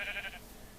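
A single short sheep bleat from the video game Minecraft, a brief faint wavering call lasting under half a second, then quiet.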